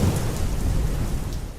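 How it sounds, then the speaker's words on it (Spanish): A heavy rainstorm roars steadily, with low rumbling thunder underneath, a dense and loud wash of rain and no voices. "una incesante tempestad, una lluvia que parece arrastrar todos los cálidos sonidos de la calma"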